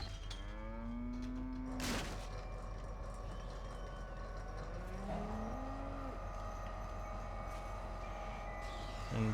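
A cow in the LEGO Jurassic World video game lets out two drawn-out moos, the first near the start and a shorter one around the middle, over a steady low mechanical hum with occasional clanks and sweeps.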